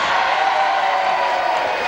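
A wrestling crowd roars and cheers steadily after the first fall goes to Chris Adams against Mick McManus, a dense continuous wash of noise from a packed hall.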